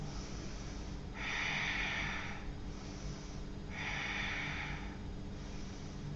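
Deep, slow yoga breaths during an Ashtanga Vinyasa forward fold, two long airy inhale-exhale cycles heard close and clear against a quiet room, with no talking.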